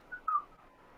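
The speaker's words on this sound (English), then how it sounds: "The man whistles as he pushes Harrow through the halls." A man whistles a short, soft tune while pushing a wheelchair through mental hospital hallways, two brief faint notes, the second slightly stronger.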